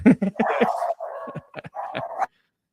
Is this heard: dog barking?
yes